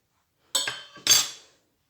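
Cocoa and icing sugar going into a metal saucepan: two short, sharp metallic clanks, close and loud, each ringing briefly before the clip falls silent.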